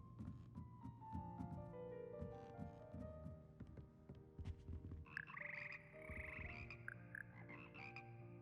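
A chorus of frogs croaks in Hogwarts Legacy, a dense, steady layer of calls running throughout amid game music and ambience, with brighter tonal sounds entering partway through.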